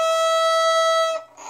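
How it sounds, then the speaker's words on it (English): Violin E string bowed normally, a single steady sustained note with rich overtones, close and loud, ending abruptly after about a second. "the E string, instead of it sounding like this,"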